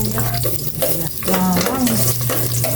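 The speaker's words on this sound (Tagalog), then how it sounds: "Maglagay na ako ng cooking oil na makapag-isa na. Igisa ko na ito." Food sautéing in cooking oil in a home kitchen pan: a steady, close sizzle with scraping stir sounds and a low background hum running throughout, with no one speaking.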